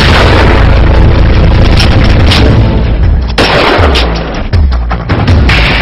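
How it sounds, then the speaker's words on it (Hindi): Loud, dense gunfire and booming explosions during a terrorist attack on India's Parliament, forming a continuous roar with repeated heavy blasts. "गोलियों की आवाजों से थर्रा उठी देश की संसद"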